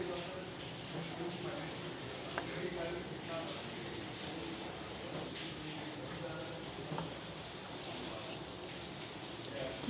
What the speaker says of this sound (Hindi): प्याज तल रही थी, तो वही अभी यही कर रही हूँ